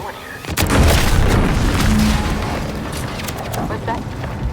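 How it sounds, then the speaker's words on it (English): A deep explosion booms in the video game The Outer Worlds 2, a loud blast that rolls into a lingering rumble, with voices heard around it. "Was that an explosion?"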